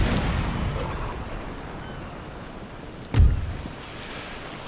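A single cannon shot from warships in the naval strategy game Empire: Total War bursts out mid-clip, a deep boom over a steady low rumble of battle ambience, with a faint pop near the end.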